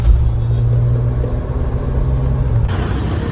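Road traffic by Dal Lake in Srinagar rumbles steadily nearby, with engines droning low and vehicles passing in a continuous loud wash with no talking.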